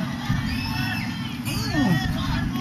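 Spectators at a Yaw-Yan mixed martial arts bout, a bantamweight title fight, shriek and yell in a continuous crowd roar, with one high voice rising above the noise late on.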